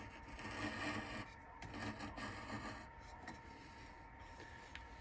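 A spindle gouge cuts wood shavings from a piece spinning on a lathe, a continuous close scraping, rasping hiss with slight rises and dips as the tip works the wood.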